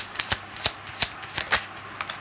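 Tarot cards shuffled by hand in a series of quick riffling bursts, about a dozen crisp rustles at an uneven pace, close and clear with no voices.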